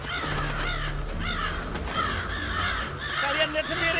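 A crow caws a few times in short harsh bursts, moderately loud, over steady background noise and a murmur of voices outdoors in a village setting.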